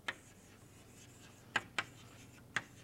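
Pen writing on paper, a few short, faint scratchy strokes with quiet gaps between them, close and isolated.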